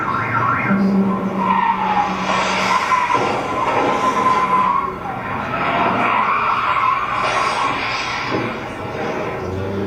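Continuous loud skidding and tire screeching from cars on a highway, heard as a played recording of a pile-up with repeated collisions, the squeal rising and falling over roughly ten seconds.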